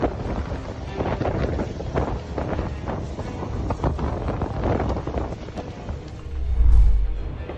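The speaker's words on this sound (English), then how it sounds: "The wind is insane." Strong wind buffets the microphone near fire-threatened homes at Carbon Mesa, California, a loud, continuous rumbling roar with gusts and a heavy low surge toward the end.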